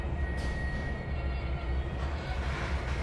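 Train braking in Trainz 2022 on the Tidewater route, a steady low rumble of rolling stock with a thin high squeal running through it, continuous and fairly loud throughout.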